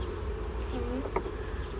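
Honeybees humming steadily inside an open, struggling beehive during a frame inspection, a continuous moderate drone with a few individual bees flitting closer past.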